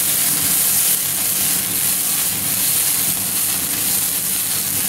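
Marsala wine simmers in a pan while its alcohol cooks off, giving a steady, even sizzling hiss that stays loud and close throughout, with no talking.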